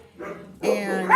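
Sadie the poodle gives a short, close bark, a brief yip followed by a longer, louder bark with a whining edge, mixed with a voice.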